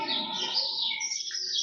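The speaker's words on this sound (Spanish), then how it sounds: "Hasta los pajaritos se pusieron a cantar" Small birds chirp and sing close by in a quick, bright run of tweets that fills the short moment with no talking.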